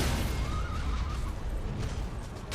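A horse whinnies in the Elden Ring video game, a faint rising-and-falling neigh buried under a loud, dense wash of game noise.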